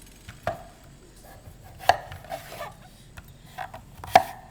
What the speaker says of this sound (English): So now we're just going to dice them up.